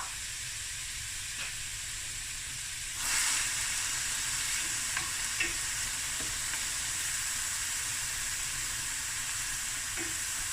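Finely chopped onions sizzle in a pan over medium heat, a steady bright hiss that surges a few seconds in and then holds, with faint clicks of stirring.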